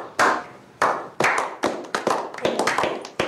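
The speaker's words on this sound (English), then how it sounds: "Insert crowd noise." Several sharp claps ring out one after another in the game Rock of Ages 2, irregular and fairly close, forming a short, sparse burst of applause with no voices.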